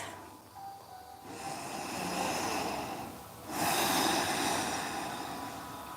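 Two long, deep breaths during a yoga session, each a broad airy whoosh swelling and fading, close and fairly loud with no talking.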